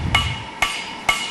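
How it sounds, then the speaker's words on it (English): A smith hammers a hot iron billet into an axe head, giving three sharp, ringing metallic strikes at a slow, steady pace, close and distinct against quiet forge background noise. "Hammering slowly shapes the metal"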